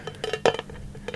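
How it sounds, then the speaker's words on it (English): Light, close taps on tin candle lids, a few quick metallic clicks spaced through a short soft-spoken candle collection moment, with one brighter cluster of strikes in the middle. "Tin lids this time."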